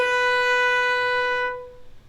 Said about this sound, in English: I'll come back to this B on the A string, and I'm just going to include a little flick.